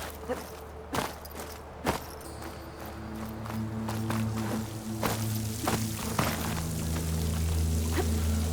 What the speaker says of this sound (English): Water's flowing into the wall.